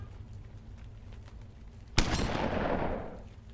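A single loud gunshot rings out in the Metaverse RP video game, a sharp crack with a trailing echo that decays over about a second, after quiet background ambience.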